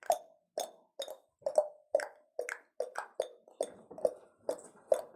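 Rhythmic tongue clicks imitating a horse's trotting hooves, about a dozen sharp pops in a steady clip-clop pattern, close and fairly loud with no talking.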